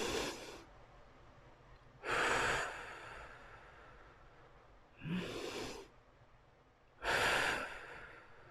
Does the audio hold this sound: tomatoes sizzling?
no